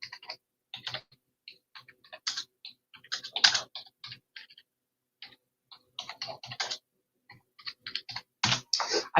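Someone types on a computer keyboard in irregular bursts of crisp clicks and taps, close and alone, with short pauses between runs of keys.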